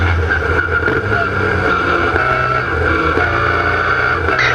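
Historic Formula Ford race cars roar past at Brands Hatch heading into Surtees, a loud continuous engine drone with a steady buzzing pitch, close and unbroken throughout.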